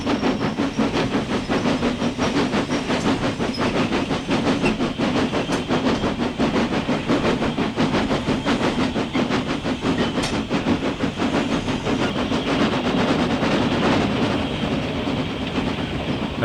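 A heritage train rolls steadily round Boothstown curve on the Astley Green and Walkden line, wheels giving a continuous rhythmic clickety-clack over the rail joints with a steady rumble and hiss, loud and close throughout, with no talk.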